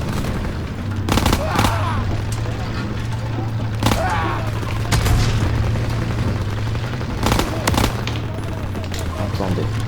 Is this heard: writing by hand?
no